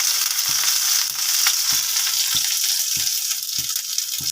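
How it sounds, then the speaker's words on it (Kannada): A snack frying in ghee on a hot stove: constant bright sizzling and crackle, close and loud, with light periodic taps and scrapes at the pan. "ಈಗ ಒಲೆ ಮೇಲೆ ನೀಟಾಗಿ ಹಾಕ್ಕೊಳ್ತೀನಿ. ನಾನು ಸುತ್ತ ತುಪ್ಪ ಬಿಡ್ಕೊಳ್ತೀನಿ."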